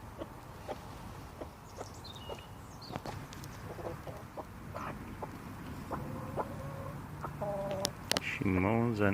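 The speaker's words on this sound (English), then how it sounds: "Such a sweet little chicken." A pet hen at a winter allotment kitchen garden gives soft, scattered clucks that grow busier toward the end, while someone talks nearby.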